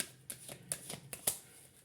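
Tarot cards shuffled by hand in a quiet room, a short run of soft, crisp riffling flicks and snaps in irregular bursts, close and fairly faint.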